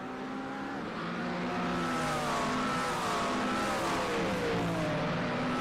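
A McLaren GT race car braking at Le Mans in iRacing, its engine tone sliding steadily downward through the gears as it slows from top speed, loud and continuous with no talking.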